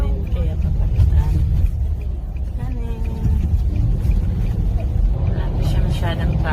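Car rolling along a highway on a Saturday with light traffic, a steady low road rumble and engine drone filling the cabin, with people talking over it throughout.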